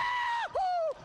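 A single high, drawn-out scream in two strained bursts with a short break between them, loud and close at a university lu'au show, with no other sounds alongside it.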